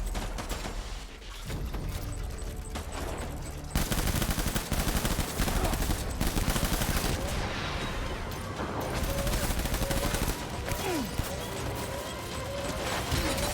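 Sustained rapid gunfire from a Death Stranding firefight rattles in thick, continuous bursts, loud and close, intensifying after the first few seconds and carrying on without pause under occasional shouting.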